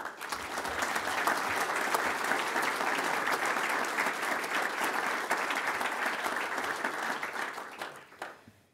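Audience at a golf association meeting applauding the staff, a dense, sustained round of clapping from a sizeable crowd that tapers off near the end.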